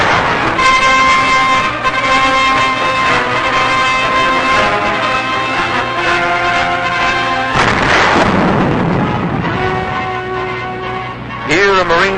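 Japanese artillery fires at Okinawa in 1945 in heavy, constant booms and rumbling blasts, with a narrator's voice running over the battlefield noise throughout.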